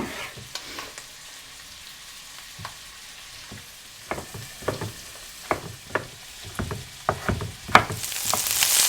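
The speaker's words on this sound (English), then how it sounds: "It's pretty hot, so I'm going to go ahead and add the onions." Onions frying in a hot pot for Afghan-style mash polow, a steady sizzle broken by irregular scraping stir strokes that grow louder and more frequent toward the end.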